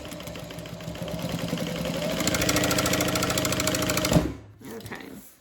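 Sewing machine stitching along the bottom of a Denver Double Zip bag, a loud rapid mechanical whirr that builds and speeds up, then stops abruptly with a clunk, followed by brief softer rattling.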